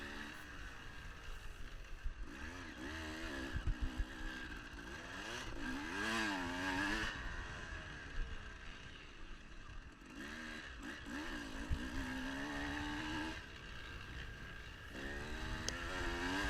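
Dirt bike racing wide open around an off-road motocross GP track at Fox Valley Off Road, its engine buzzing loud and close throughout, rising and falling with revs and gear changes, with no talk.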